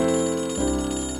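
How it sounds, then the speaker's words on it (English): A landline telephone rings with a sustained, bell-like electronic tone. There is no talk, and the pitch shifts partway through. "That's the phone, my landline."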